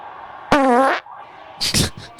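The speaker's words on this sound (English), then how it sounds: "You farted in the mic." A loud, buzzing fart lasts about half a second right up against a microphone, followed by bursts of voices and laughter.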